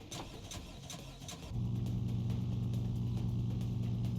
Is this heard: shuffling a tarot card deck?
no